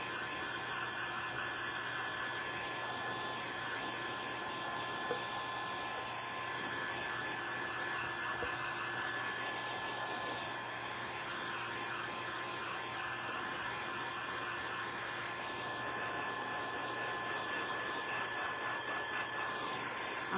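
Hair dryer blowing on a muddy DIY wooden flower craft sign, a steady, close whooshing hum with a whine on top, running evenly and alone throughout.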